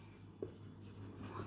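Chalk or marker scratching on a board as a teacher writes out a matrix definition, a brief faint stroke with a soft tap over low room hum.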